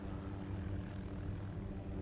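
An MH-6J light helicopter in Arma 2 sets down on a landing pad, its engine and rotor a steady, dense rumbling drone at constant loudness, close and without talking.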